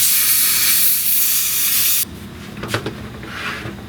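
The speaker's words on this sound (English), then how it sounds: "get some steam down into that crack and heat everything up a little" Steam hisses loudly and steadily into a crack in a wooden chair joint for about two seconds, then cuts off, leaving a quieter rustle and a few faint knocks.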